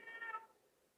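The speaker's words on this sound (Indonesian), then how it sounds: "Kucing lagi berantem." A cat gives one short, strained meow that quickly fades, heard alone and fairly faint, like a brief cry from cats fighting nearby.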